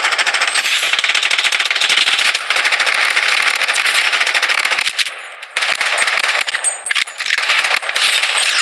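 Rapid automatic gunfire rattles almost nonstop in a Blood Strike battle royale match, loud and close with dense bursts, a few brief pauses, and sharp metallic clicks near the end.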